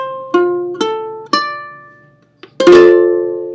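Ukulele strings on the 5th fret plucked one at a time, four clear bright notes with ringing decays, spaced about half a second apart, then a pause before the last, louder note, close and alone.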